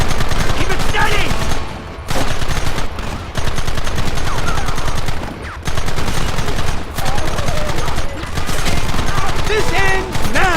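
Heavy gunfire rattles nearly nonstop in a Red Dead Redemption shootout, with rapid bursts of shots close and loud and a few brief lulls, while voices shout over the din.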